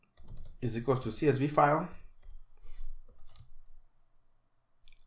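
Keys clatter on a computer keyboard in quick bursts, partly under a man's speech and then continuing sparsely in short clicks once he stops talking.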